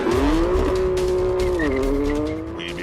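An SUV driven fast around a racetrack roars loudly and close, its engine note holding high, dipping briefly, then climbing again as the revs rise, with a hint of tire noise before the sound eases slightly at the end.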